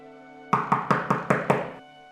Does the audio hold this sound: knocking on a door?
yes